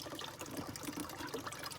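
Water pouring out of a spring box filter pipe beside a mountain creek, a steady close rushing and splashing flow that runs continuously without pause.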